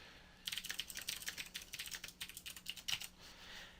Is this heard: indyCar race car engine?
no